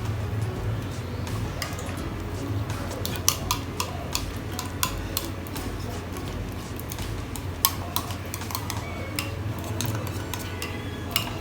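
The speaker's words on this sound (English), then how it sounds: "Just mix everything together." Hot fried shrimps tossed and mixed with creamy dynamite sauce in a bowl, a steady close wet stirring with light clinks of a utensil against the dish throughout.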